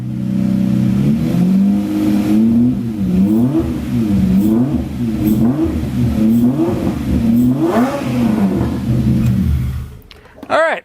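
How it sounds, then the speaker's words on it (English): Rebuilt Lamborghini movie car engine with air filters off, revved repeatedly in close-up, a loud steady idle broken by a series of rhythmic blips rising and falling, ending in a clatter as it cuts off. "We don't have the air filters on, but I'm just gonna rev it just a little bit just to see if it's smooth enough."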